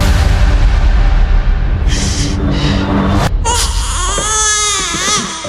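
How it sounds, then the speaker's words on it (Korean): A baby cries out in the killing-game arena of Squid Game season 3, shrill wavering wails rising after a deep rumbling boom and a sudden cut, loud and close. "살인 게임장에서 울려 퍼지는 아기의 울음소리"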